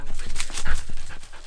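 A pack of excited rescue dogs pants close by in quick, rhythmic bursts, with soft snuffling and a faint whimper mixed in.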